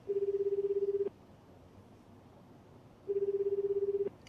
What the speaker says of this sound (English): After a handful of rings, I end the call.